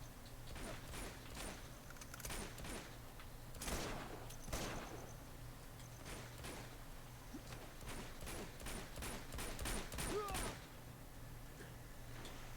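Rapid bursts of gunfire crackle in Uncharted 2: Among Thieves, sharp repeated shots over a steady low game hum, with mechanical clicks and clatter between volleys.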